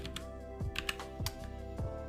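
Code being typed on a computer keyboard, a quick uneven run of crisp key clicks with a few heavier thumps, close and fairly quiet over a faint steady hum.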